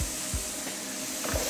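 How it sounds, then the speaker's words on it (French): Veal in a hot pan sizzles steadily as a honey glaze is poured in to deglaze, with a continuous close hiss broken by a few soft scraping or stirring knocks. "on vient déglacer avec le laquage"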